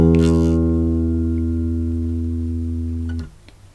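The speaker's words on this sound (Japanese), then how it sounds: "D シャープの音になります。" A bass guitar sounds a D sharp on its D string, one plucked note sustaining evenly for just over three seconds before being cut short by a mute.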